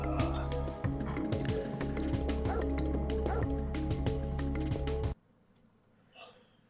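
Dogs bark in the Parasite Eve video game, repeated yaps and yips over a dense layer of game music and effects that cut off abruptly, leaving near silence.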